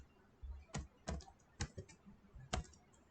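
Quiet typing on a computer keyboard while writing Node.js template code: a handful of separate keystrokes at an uneven pace, close but soft, with no talking.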